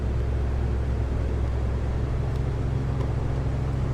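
Propeller aircraft engine in the X-Plane flight simulator, a steady loud low rumble with broadband roar, holding constant throughout as the engine runs up and settles.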